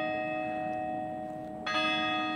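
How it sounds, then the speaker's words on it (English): A church bell in Prague ringing out at five o'clock, one long sustained ringing tone with a second louder strike near the end, distant and resonant, with no talking. "we heard the bell ring 5 times"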